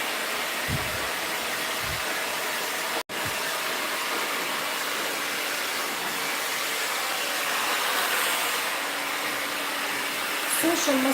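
Hair dryer blowing steadily and close while a bob haircut is dried, a continuous airy whoosh that cuts off for an instant partway through, with someone speaking over it.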